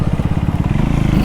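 A single-cylinder 350cc Triumph Speed 400 motorcycle idling or running steadily close by, with a loud, even, rapid thumping pulse throughout.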